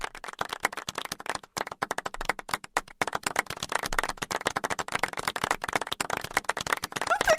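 Rapid, steady hand clapping with a wet, slapping quality, sharp claps repeating continuously and close-up, with no talking over them.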